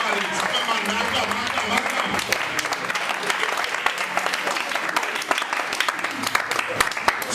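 Church congregation applauding during a sermon, dense continuous clapping throughout with voices mixed in underneath.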